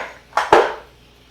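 Two quick clatters of a utensil against a pan as garlic-sprinkled sweet potato leaves are tossed and mixed, a short pair of knocks with no talk.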